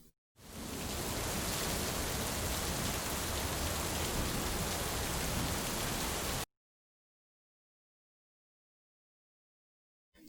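Steady heavy rain from a storm outside, a dense unbroken wash of drops pouring for about six seconds before cutting off to silence.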